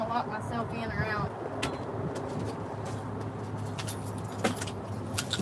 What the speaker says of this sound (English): Hold on, I'm looking for the keys.